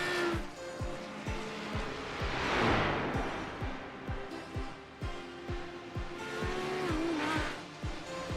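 A race car in iRacing at the Bathurst 12 Hour circuit climbs through rapid gear changes, each shift a sharp click-like break in the loud, continuous engine whine, with tire squeal rising briefly in the middle.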